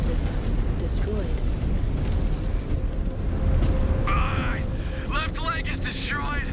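Missile explosions in MechWarrior, rumbling booms over a dense low roar, with a synthetic voice announcing warnings and chirping alert tones toward the end.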